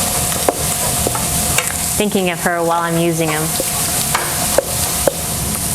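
Sausage sizzles steadily in a special baking pan for a sausage and egg casserole while a spoon scrapes and stirs through it, loud and close, with someone talking over the frying.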